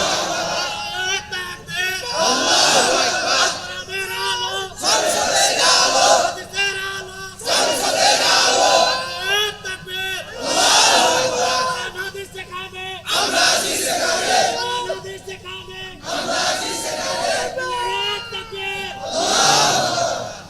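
A crowd at an Islamic religious sermon (waz) in Bangladesh chants slogans in loud, rhythmic bursts that rise and fall repeatedly, with short pauses between shouted phrases and voices overlapping throughout.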